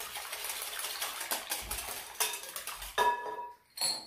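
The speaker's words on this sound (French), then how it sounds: "Je mélange bien tous ces ingrédients." Savory crêpe batter being mixed in a bowl with paprika and olive oil, heard as close clinks and scrapes of a utensil against the bowl in an irregular rhythm, fairly quiet, with no talk.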